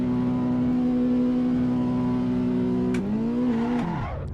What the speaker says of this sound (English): Am I revving it too much as well?